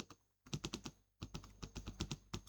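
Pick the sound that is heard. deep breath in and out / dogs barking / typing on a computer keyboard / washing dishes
typing on a computer keyboard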